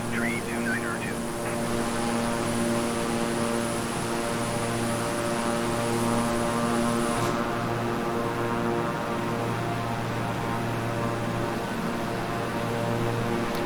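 Steady droning hum of a King Air 350i's twin turboprop engines in Microsoft Flight Simulator, continuous and unchanging, with a brief faint chirp early on.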